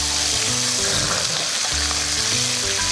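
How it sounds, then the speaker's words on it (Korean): Soy sauce hits frying meat and onions in a hot pan for tray jajangmyeon, giving a loud, dense, continuous sizzle up close with a low rumbling hum underneath and no talking. "양조간장 조금 넣어주시고 그러면 이제 수분이 들어가니까 이제 좀 푸한 소리가 나긴 하죠"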